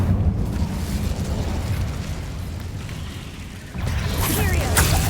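A fiery Incendio spell erupts in Hogwarts Legacy with a loud, rumbling whoosh and burst, dipping briefly before a second crackling blast swells up near the end.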